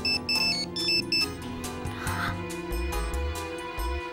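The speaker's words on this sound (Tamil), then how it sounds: "அம்மா உங்க போன் அடிக்குது." A mobile phone rings with a bright electronic ringtone melody, loud and repeating, with a low thumping beat under it and no talk.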